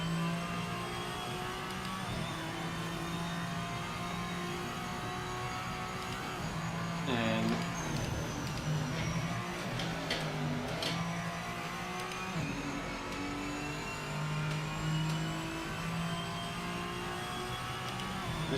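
A Gillet Vertigo GT race car in the Project Motor Racing sim, its engine droning at steady high revs with a brief shift and rev change, continuous and fairly loud.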